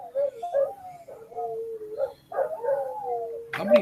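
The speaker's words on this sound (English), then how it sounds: "I'm going to wait for these dogs to stop barking." Several hounds bark and howl one after another, their yips and bays overlapping in a close, loud chorus that rises sharply at the end.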